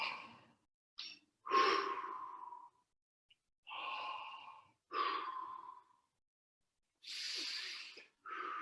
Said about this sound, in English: Feel the impulse of the breath